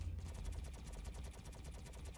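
Spaceship cannons firing in Star Citizen, a rapid stream of repeating shots pulsing at an even rhythm over a low engine hum, moderately quiet and without any talking.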